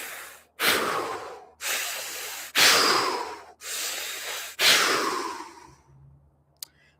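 Five slow, deep breath cycles through the mouth during a movement practice, each a loud, close, airy whoosh separated by short pauses, ending in quiet.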